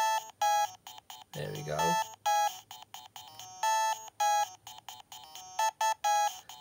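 A theme tune playing as bright, beepy chiptune notes from a Game Boy video game, in a fast repeating rhythm, with someone briefly speaking over it.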